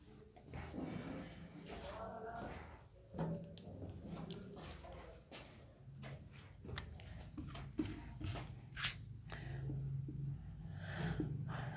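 Chalk or marker writing out a physics definition on a board during a class lecture, a run of short scratchy strokes and taps with brief pauses, fairly quiet, with room noise underneath.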